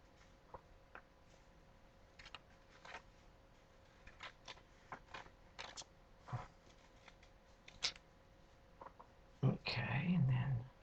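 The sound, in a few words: cutting paper slightly outside the drawn line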